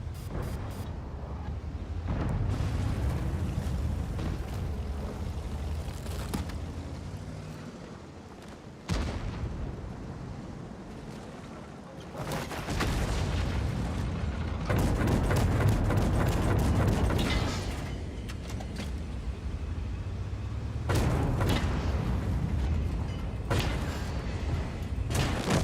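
Tank gunfire in a video game destroying a Type 5 tank, heavy booming cannon shots and rumbling engine and mechanical noise in repeated surges across the span, loud and close.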